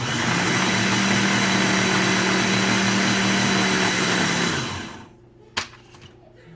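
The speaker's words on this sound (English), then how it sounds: "and I'm going to just blend this" A blender mixing brownie batter fat bomb ingredients, running loud and steady with a high whirring motor drone. The motor winds down and stops near the end, and a single sharp knock follows in the quiet.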